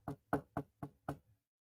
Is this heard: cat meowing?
no